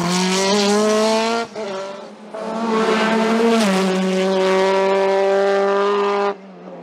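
A Simca Rally 3 rally car racing up a hill climb at Vuillafans, its engine howling loud and close under hard acceleration, with brief dips at gear changes before revving back up and cutting off near the end.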